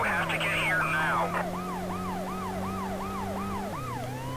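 An ambulance siren from the PS1 video game World's Scariest Police Chases wails in a steady repeating up-and-down sweep over a low engine drone, with a brief tone change near the end.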